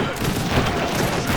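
Dense, continuous crackling volleys of musket and gunfire from French and British consulate units in the Age of Empires 3 strategy game, a steady busy barrage with a possible faint voice underneath.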